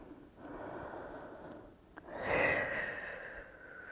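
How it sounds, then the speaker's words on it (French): Slow breathing during a prenatal exercise workout, a long soft exhale followed by a louder, breathy inhale-exhale close to the microphone, with no talking. "On synchronise avec la respiration."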